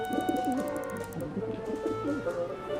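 A pigeon in the video game Syberia: The World Before coos in soft, repeated rolling phrases, close and steady over a quiet ambient background.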